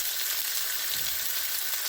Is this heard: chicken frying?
yes